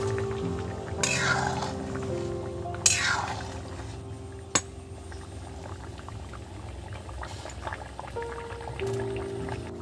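Doi echor, young jackfruit in a yogurt curry, bubbling and boiling steadily in a pot, with a couple of louder pouring or sizzling swells and one sharp clink.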